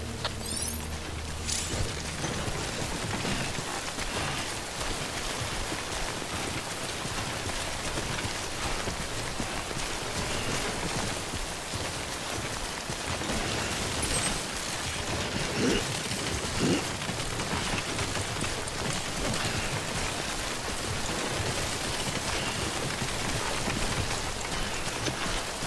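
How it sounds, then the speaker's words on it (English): Timefall rain in the video game Death Stranding pours down steadily and densely for the whole stretch, a constant loud hiss of drops with a faint rumble beneath. "Don't stay out in the rain any longer than you have to."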